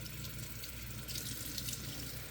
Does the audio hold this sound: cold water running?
yes